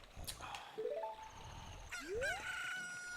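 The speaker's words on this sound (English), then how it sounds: "look, a chicken hatched from the egg you were incubating" A chicken newly hatched from an incubated egg in The Legend of Zelda: Ocarina of Time crows loudly and alone, a short rising cock-a-doodle-doo cry over game chimes.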